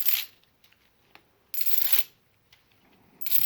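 Silver half dollar coins dropped onto a hard surface three times, each drop a bright metallic jingle and ring, close and clear, separated by quiet pauses and faint handling ticks.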